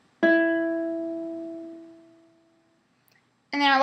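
One plucked E string on a ukulele rings out clearly and alone, a single close note that fades over about two seconds, then a second pluck begins at the very end.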